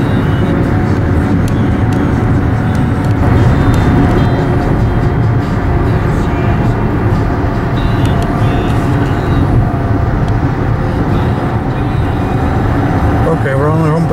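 Steady low road and engine rumble from inside a car crossing a bridge over Tampa Bay, constant and fairly loud, with wind and tire noise.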